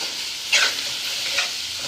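Okra and raw mango are stirred in a hot pan over a soft sizzle, with two brief scraping strokes of a spoon against the pan, close and without speech.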